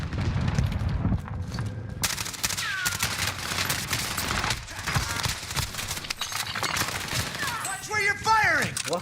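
Dense rapid gunfire and bursts of automatic weapon fire in Call of Duty Warzone, loud and continuous with sharp cracks, under game voice chatter.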